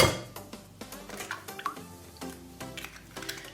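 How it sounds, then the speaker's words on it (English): Eggs cracked into a bowl while making Bulgarian banitsa, giving a run of sharp, close shell taps and clinks in an uneven rhythm, with some soft wet splats between them. "We'll get the bowl, crack the eggs."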